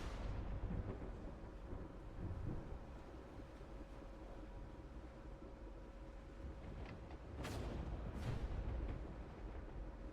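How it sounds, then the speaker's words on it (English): Thunderstorm rumbling around a boat sailing into a storm in The Last Caretaker, a continuous low roar of rain and wind with a couple of sharp thunder cracks near the end. "But we are sailing directly into the storm."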